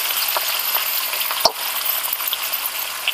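Leafy greens with mint, spinach and coriander plus chopped bottle gourd frying in about two spoons of oil, a steady loud sizzle with a single sharp clink partway through, no voices.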